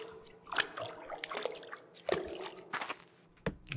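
Spring water is scooped up from the floor and drunk in the Partum Artifex video game, giving a string of wet drips, splashes and squishy slurps in irregular bursts, close and fairly quiet.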